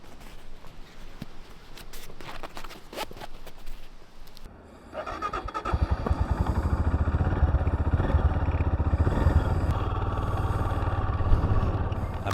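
A solo touring motorcycle heads out of a campsite in Western Australia: a few seconds of nearby clattering and shuffling, then the engine comes in and holds a steady, loud, close rumble through the rest.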